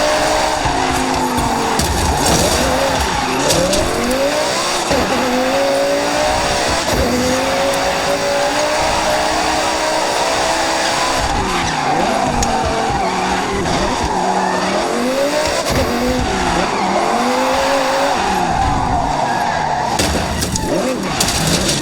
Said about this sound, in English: you can do some drifting to get skill points